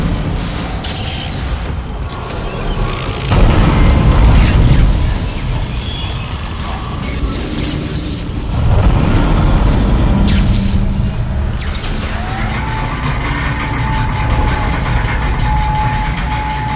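Asteroids smashing through a ship's roof in the Dead Space game, with deep rumbling crashes that swell twice into loud, heavy roaring impacts over a constant low mechanical drone, close and forceful.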